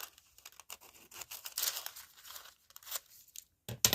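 A strip of tissue paper is torn by hand, close and quiet, with a drawn-out crinkly rip, scattered rustles and a few sharper snaps near the end.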